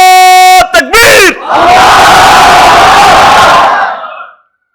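A crowd answers a Takbir call at a religious gathering, a loud massed chant of many voices that swells after a brief lead call and holds steady for a few seconds before cutting off.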